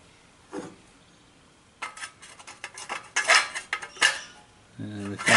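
A metal canteen cup and mess tin knock and clink on an Esbit pocket stove, with scattered close clanks and scrapes of metal building into a busier clatter, then a brief ringing tone at the end.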